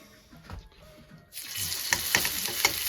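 A New York strip steak hits a hot pan with a sudden loud, bright sizzle, which then keeps hissing and crackling steadily close by after a quieter moment of handling.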